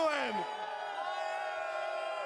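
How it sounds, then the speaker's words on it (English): An arena crowd at The International 12 in Climate Pledge Arena sustains a loud, ringing chant and cheer, with massed voices holding a steady tone throughout. "And a lot of chants going on in the audience as well"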